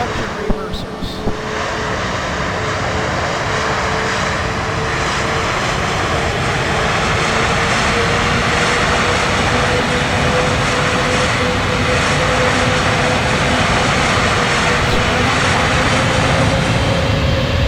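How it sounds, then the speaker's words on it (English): Jet engines roaring under a brief touch of thrust reversers during landing in Microsoft Flight Simulator, a steady loud broadband rush with a sustained hum that holds for the full stretch. "Just a little touch of reversers."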